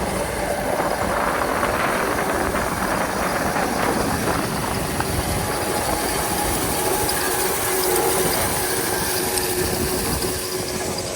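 A tractor-drawn rake turns straw over in a field, a steady loud mechanical clatter and rattle with continuous ratcheting and engine rumble, unbroken throughout.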